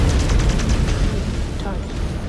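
A mech blowing up in MechWarrior 5: Clans, Wolves of Tukayyid DLC: loud, close booming blasts with a crackling tail, mixed with the game's voiced announcements.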